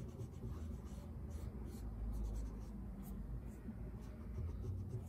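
A charcoal drawing tool scratches and picks steadily at a dark charcoal ground on paper, a faint, continuous, close-up rasping texture with no pauses.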